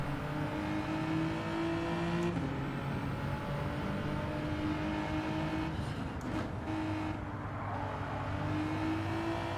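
Genesis race car in the Gran Turismo 7 racing game, its engine droning steadily and loudly throughout with pitch shifts as it revs and changes gear, plus a brief scrape or knock partway through.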